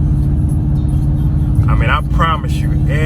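Nissan Titan pickup truck in regular drive, towing a trailer up a hill, a loud steady low engine drone heard from inside the cab, with someone talking over it.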